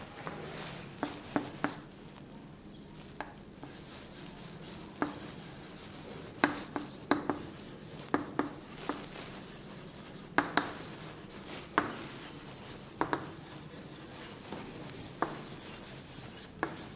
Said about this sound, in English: Let me go for writing another example.